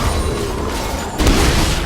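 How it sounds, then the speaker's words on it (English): A Flame Chompers explosion in a League of Legends-style match bursts as a loud boom over dense, continuous game noise, swelling briefly and holding before the clip ends. "It was actually just the Chompers explosion that killed him"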